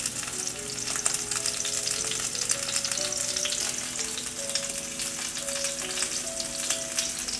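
Salmon skin, Alaskan king salmon, frying in hot oil in a pan, a dense, steady crackling sizzle that holds throughout, close and even, with no talking.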